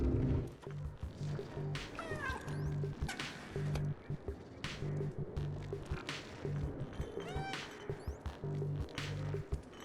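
A cat meows repeatedly in the video game Stray on PS5, several short, rising meows and a longer drawn-out cry heard over game ambience, clinks and low background sounds.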